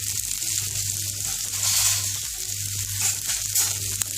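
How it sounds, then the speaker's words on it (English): Potatoes roasting on a tawa with onions, a steady loud sizzle and crackle of frying throughout, with occasional small stirring sounds and no talking. "So this is tawa on which I am roasting it."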